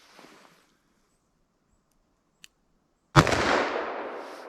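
A .44 Magnum revolver firing a Buffalo Bore lead-free round, one sudden loud close blast with a ringing, decaying tail after a near-silent pause, a faint small click shortly before.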